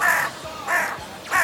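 Three harsh caws from crows, the crow knight's birds in Saint Seiya, evenly spaced, loud and near with nothing else over them.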